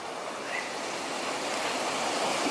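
Falling water of a waterfall in the Peak District, a dense, continuous rushing roar heard from close by, steady throughout with no voices.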